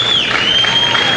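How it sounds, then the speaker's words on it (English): A Madison Square Garden audience at a 1978 martial arts exhibition roars with steady, dense cheering and applause after a granite-breaking feat, loud and continuous throughout with no gaps. "The crowd really enjoys it."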